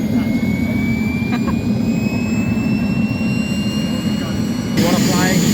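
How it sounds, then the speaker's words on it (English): Roaring whine of a real jet turbine in an RC model jet at a large outdoor RC aviation event, a steady loud rushing drone with rising high-pitched tones, surging louder near the end. "It's a real jet turbine. It shoots smoke and fire from its core, and it burns fuel."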